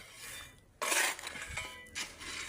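A metal spade scraping and clinking in a metal pan while mixing a soil sample for quartering in a civil engineering lab, with a burst of gritty scraping then intermittent softer scrapes, close and fairly loud.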